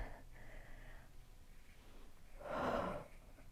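During a standing balance yoga flow, a single soft, breathy exhale rushes out near the end, faint and close against a quiet room with low background hum.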